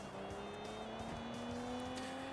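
Car in the video game Sleeping Dogs, its engine holding a steady high whine under a sustained tire squeal as it takes a corner at speed, continuous and fairly loud.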